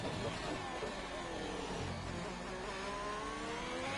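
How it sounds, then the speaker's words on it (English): Sim race car at COTA downshifting to third gear, a dense engine whine with falling then rising harmonics, loud and continuous throughout. "I'm not sure why he's downshifting there. I'm also not sure why he's going down to third gear there."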